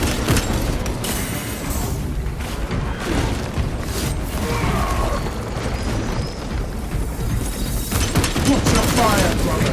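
Dense, rumbling gunfire and booming blasts in Warhammer 40,000: Space Marine 2, a continuous loud battle din with rapid bursts and explosions throughout, with occasional voices mixed in.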